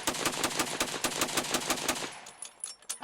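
A Gatling gun chambered in .30-40 Krag fires a rapid, rattling burst of shots at a shooting event, loud and close for about two seconds before it stops and a few scattered sounds follow.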